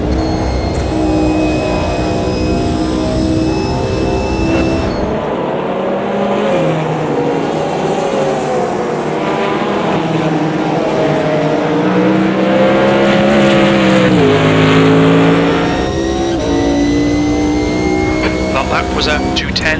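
GT1 race car engine in Automobilista 2 at Spa-Francorchamps, a loud continuous drone with harmonics that rise and dip through gear changes as the car accelerates onto the straight.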